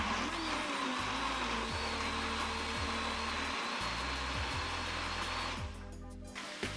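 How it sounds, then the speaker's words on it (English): An electric blender whirs steadily as it blends cooked blanched onion, a loud continuous motor drone with a high whine that cuts off abruptly near the end, leaving a quieter tail. "I'll add my blanched onion, the onion that I already cooked in the oil. I'll blend them all together now."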